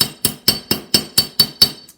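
A hammer strikes wire being shaped for bead work, eight sharp metallic taps in a steady, even rhythm, close and clear with bright ringing tops and no talking.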